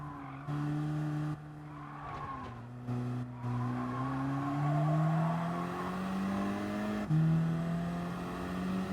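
In Gran Turismo Sport, a car engine drones and downshifts under braking while tires skid and squeal, the pitch sliding and rising across several seconds, close and steady with no talk.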